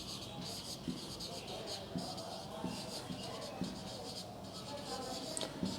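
Chalk or marker scratching out an equation on a board during a maths lecture on spheres, a continuous stroke-by-stroke scraping under a faint murmur of voices in a classroom.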